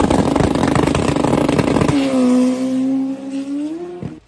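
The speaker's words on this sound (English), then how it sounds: "so this is the first pass, and you can hear how it's leaving on low boost" A drag race car launches on low boost, loud engine roar and clatter giving way to a steady, sustained drone that holds for a couple of seconds before a sharp cutoff near the end.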